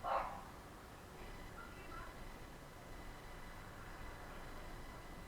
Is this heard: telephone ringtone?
no